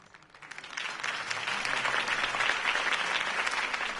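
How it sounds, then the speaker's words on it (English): Applause in a Batman video game swells from a few scattered claps into a steady, sustained round of clapping from a crowd, moderately distant. "could have heard that applause"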